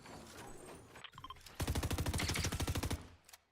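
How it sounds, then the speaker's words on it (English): Rapid SMG fire in Fortnite during a competitive LAN duos match, a dense burst of quick regular shots lasting over a second after brief quieter game sounds, loud and close. "We got this window here and this SMG dealing tons of damage from range."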